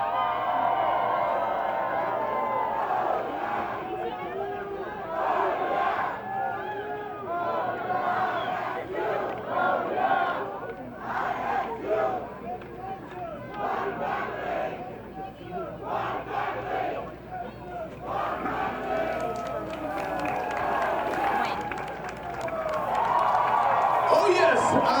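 A parade crowd at the Ohio University 2016 Homecoming roars and whoops for a sorority and fraternity team, a sustained wall of cheering and yelling that swells near the end, with an announcer's voice mixed in.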